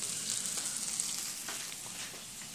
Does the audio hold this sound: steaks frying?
yes